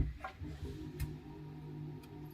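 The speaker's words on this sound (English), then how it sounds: "hold it in until the ticking stops" Gas fire igniter in a Sterling Eccles Moonstone caravan, ticking in a steady rapid rhythm of small clicks close by, with a low hum underneath and no voices.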